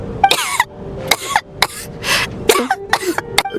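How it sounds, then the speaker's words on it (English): Repeated coughing from a character in the video game Genshin Impact, several harsh bursts in an uneven rhythm, close and fairly loud, with no talk over them. "How long have you had that cough"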